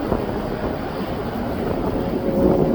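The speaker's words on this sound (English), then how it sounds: "we've also got a small aircraft, private jet" A small private jet taxiing or passing at East Midlands Airport, a steady broadband engine roar held at an even, moderately loud level throughout, with wind buffeting the microphone.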